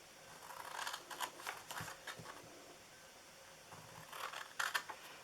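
Scissors cut through a cardstock gift box template along the score lines, giving a string of quiet, close snips and paper rustles in separate bursts, with no talk over them.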